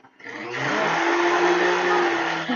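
A blender whirs steadily and loudly for over two seconds while plant-based ingredients are blended in a home kitchen, the motor spinning up at the start and holding an even drone.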